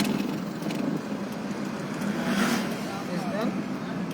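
A car's engine revs and idles through a driving lesson, its steady hum swelling once partway through, while an instructor talks over it.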